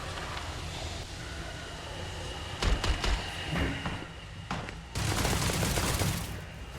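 Automated turret in Starfield spraying rapid bursts of gunfire, a dense, loud rattle with sharp crackling volleys over a steady roar, no voices.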